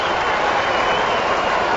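An Australian rules football crowd roars after a goal in a Crows versus Magpies match, a dense, loud, steady wall of cheering and clapping.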